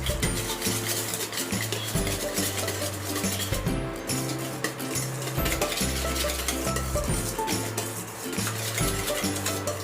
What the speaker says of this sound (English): Salt. White pepper, and then just have to mix it.